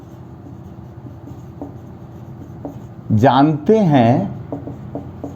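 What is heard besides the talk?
writing a sentence on the board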